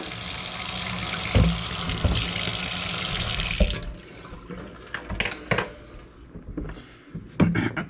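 A vintage lunchbox washed under a running tap with a green sponge and Dawn soap: a steady loud stream of water at first, then stopping, followed by wet scrubbing, rubbing and intermittent clunks of handling.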